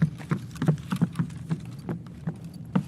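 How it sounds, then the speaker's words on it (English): Footsteps in a video game, walking at a steady pace and clearly audible as distinct soft thuds roughly every third of a second, close by and alone. "I hear footsteps straight ahead"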